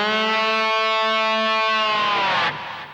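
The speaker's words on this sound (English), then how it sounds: "I played on the 7th fret of the D string." A single sustained A note on slide guitar, played at the 7th fret of the D string, rings with rich distorted harmonics for about two and a half seconds before being cut off, loud and alone.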